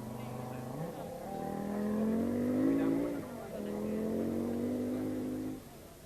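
Raimo Lähdesmäki's Audi rally car, struggling to last the race, revs and climbs through the gears on a rallysprint course in Seinäjoki, a moderately loud engine note rising and falling with shifts, a commentator's voice faintly underneath.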